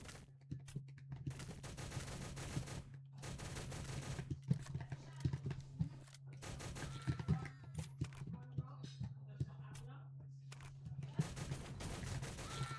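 A P90 fires in rapid, sustained bursts in the video game Shell Shockers, the sharp stuttering shots broken by brief gaps and set over a steady low hum, with faint talk now and then.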